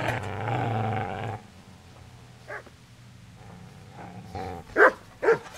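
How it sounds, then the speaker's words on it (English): A dog in Kingdom Come: Deliverance gives a few short barks and whimpers at moderate distance, coming in isolated bursts after a stretch of other game sound, with the loudest pair near the end. "I hear a dog barking"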